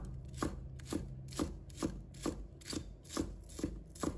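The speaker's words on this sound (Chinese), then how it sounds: "把葱白切成小粒。" A knife chops scallion whites into small pieces on a cutting board in a steady rhythm of about nine crisp, evenly spaced strikes, close and fairly quiet, with no talking.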